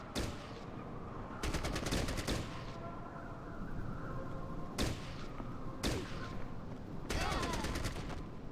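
Rapid gunfire bursts in a video game battle, with AK rifles among the weapons: several sharp automatic volleys at irregular intervals over a continuous background din.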